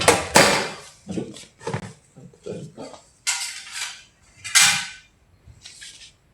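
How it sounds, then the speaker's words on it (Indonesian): A refrigerator door being lowered and adjusted, heard as a series of sharp, close clunks and knocks spaced by short silences, some louder bangs standing out among the smaller taps. "Saya akan turunkan pintu kulkasnya."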